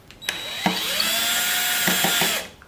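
A cordless power screwdriver whirs loudly and steadily for about two seconds, close by, as it backs out rear fairing screws on a 2012 Honda CBR 250 R. Short clicks and clacks mark the start and the end.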